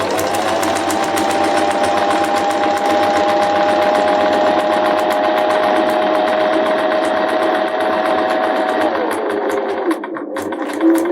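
A sewing machine stitches along one side of a piece of fabric, its needle running in a fast, steady, loud whirring rhythm that slows and stops near the end.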